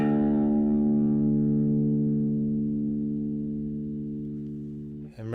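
A single open low string on a guitar, the sixth string tuned down from E to D for open G tuning, rings out steadily and slowly fades over several seconds before a brief handling noise at the end.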